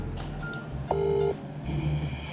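Phone keypad tones as a call is dialed, a few short steady electronic beeps over low background hum, close, with no talking.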